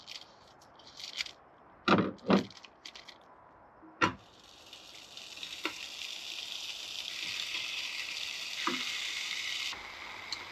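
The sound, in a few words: pork roll heating in a pan on a camp stove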